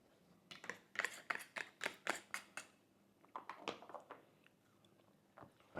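Close, crunchy chewing of a mouthful of a corn, chickpea and rice meal with sauce: a run of quick, irregular bites and mastication sounds, fairly quiet, with no talking.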